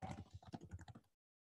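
Someone typing on a computer keyboard, a quick run of close, distinct key taps in an irregular rhythm lasting about a second before cutting to silence.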